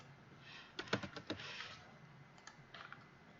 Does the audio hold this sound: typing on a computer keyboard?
yes